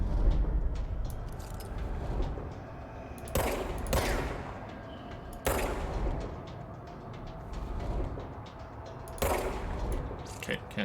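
Bursts of gunfire in the video game Control, several sharp broadband shots spaced a few seconds apart over a constant hum of game ambience and background noise.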